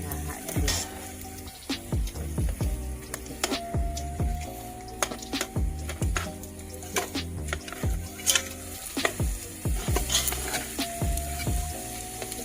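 Sticky rice being stirred with sugar and coconut milk in a pan while cooking biko outdoors, with steady scraping and sizzling, repeated knocks of a spoon against the pan and a sustained tone in the background.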